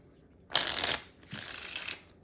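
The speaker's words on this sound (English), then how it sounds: "a shuffle" A deck of playing cards riffle-shuffled twice in quick succession, each a dense, crisp flutter of a little under half a second, the second slightly softer, with no talking.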